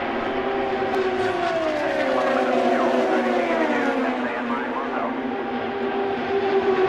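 IndyCar race cars roar around Auto Club Speedway in Fontana, a dense, continuous engine drone with pitches sweeping up and down as several cars pass at once, steady and loud throughout.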